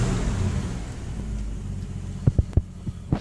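A 1971 postal jeep's engine idles close by in a low, steady rumble, with a few soft thumps and knocks toward the end.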